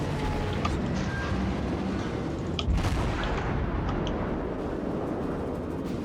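Naval guns rumble in World of Warships as incoming fire arrives, a dense low roar with a sharp heavy boom near the middle over constant battle noise.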